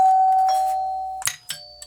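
A Wyze Doorbell V2 chime rings out as a long sustained electronic tone that steps down in pitch, followed by a couple of short clunky clicks near the end, clear and alone with no talking.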